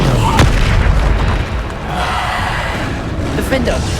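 A Descendo spell slamming down in Hogwarts Legacy, a sharp booming impact near the start followed by a rumbling, crackling tail that settles into a steady roar, loud and close, with a voice speaking briefly.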